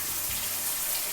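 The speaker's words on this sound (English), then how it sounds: "I'm about to shower" Shower water runs in a continuous, steady hiss of falling spray, close and even for the whole short stretch, with no voices.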